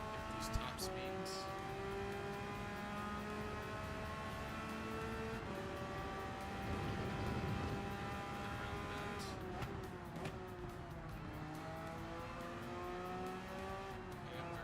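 A race car engine in Gran Turismo 7 revs and accelerates through the gears, with a loud, steady whine that climbs in pitch, drops at each shift and climbs again.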